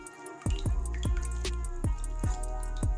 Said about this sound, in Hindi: इस तरह इसे हिला के इसे आपने निचोड़ना है इस तरीके से